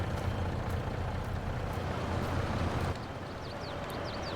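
Tractor engine in Farming Simulator 22 idling and rumbling steadily at close range, a low mechanical drone that drops slightly partway through, with faint chirpy bird-like sounds near the end.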